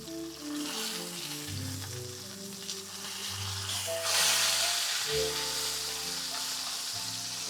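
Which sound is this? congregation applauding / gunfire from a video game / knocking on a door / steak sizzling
steak sizzling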